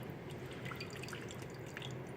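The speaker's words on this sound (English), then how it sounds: "I'm holding the glass stirring rod on the top of the beaker and pouring into the waste bin in the middle of the lab" Zinc ion solution poured from a glass beaker along a stirring rod into a lab waste bin, a soft continuous trickle with small dripping splashes, quiet and steady with no talking.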